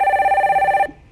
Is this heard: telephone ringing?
yes